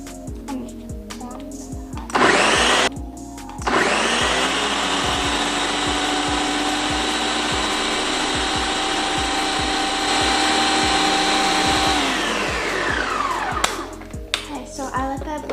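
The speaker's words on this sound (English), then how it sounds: "So now we're going to start blending." A countertop blender running on high, whirring through mango sago ingredients: a short burst, a pause, then a long steady loud roar of more than eight seconds that winds down, with clicks around it.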